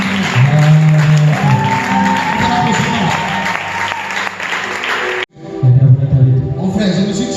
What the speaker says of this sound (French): Est-ce qu'on peut acclamer le Seigneur, c'est la fin?